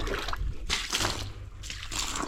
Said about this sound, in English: For me, I'll be watering the walls.